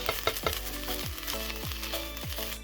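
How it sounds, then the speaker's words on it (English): Cooked ground turkey being chopped and broken into smaller chunks in a hot pan, a steady sizzle punctuated by a regular series of spatula scrapes and taps, close and unaccompanied by speech. "Our ground turkey is now fully cooked, so the last step I'm doing is just breaking it into a little bit smaller chunks"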